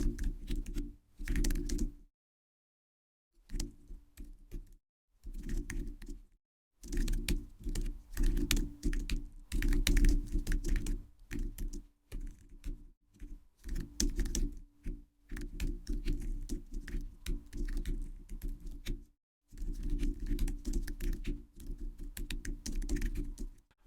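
A computer keyboard clatters in dense bursts of fast keystrokes as code is entered, close-miked, with several short silent pauses between runs of typing.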